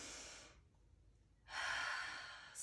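Two long, audible breaths during a yoga session: a breathy exhale that fades into a brief quiet, then a deep, drawn-out inhale close to the mic, with no talking.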